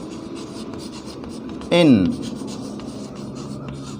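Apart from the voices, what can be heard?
writing genotype on the board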